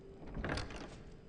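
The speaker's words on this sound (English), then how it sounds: "Okay, let's close the door." A door in a built manor in the video game Enshrouded swings shut, a soft whoosh rising to a muffled close, heard alone.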